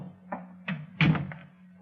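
A door is handled in an old radio drama: a few close wooden knocks and thunks, one heavier clunk in the middle, then a last tap, with a low hum underneath and no voices.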